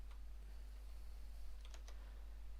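A few faint, sparse key clicks from a Maltron one-handed keyboard, tapped slowly and hesitantly against a low steady hum in a quiet room.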